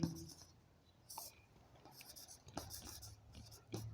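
Chalk or marker strokes on a board during a Class 10 physics lesson on series circuits, several short scratchy bursts spaced a second or so apart over a quiet room, with a teacher's faint voice between them.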